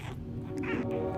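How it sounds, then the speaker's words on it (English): A new kitten named Biscuit meows over about a second, close and fairly steady, with a low background hum and faint talk underneath. "This is Biscuit. He's my new kitten."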